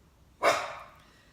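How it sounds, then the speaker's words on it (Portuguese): A single dog bark rings out at moderate distance and fades quickly into quiet. "Hoje eu estou com as minhas cachorras aqui perto, então elas vão dar umas latidas."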